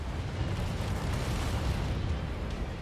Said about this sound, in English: Incoming missile.